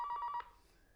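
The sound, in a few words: telephone ringing with a caller on the line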